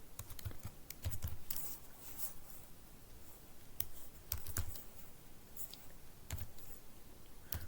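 Someone types HTML code on a computer keyboard in a quiet room, with irregular bursts of close, crisp key clicks and brief pauses between short runs of keystrokes.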